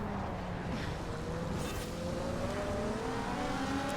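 A Forza Horizon race car accelerates away under hard throttle, a steady loud engine drone rising in pitch through the gears, continuous with no voices.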